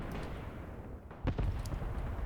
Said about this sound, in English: Artillery is dropping.